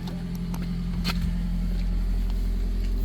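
A car idles and pulls away at night near Murree, with a steady low engine hum and a few faint clicks and knocks over the rumble.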